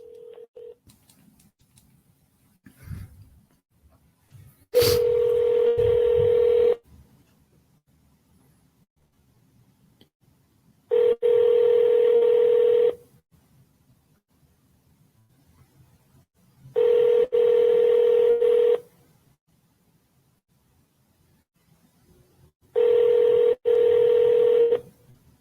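A phone call placed to a Raising Cane's restaurant: a brief burst of dialing tones, then four evenly spaced rings of a steady ringback tone, each lasting about two seconds, separated by quiet gaps.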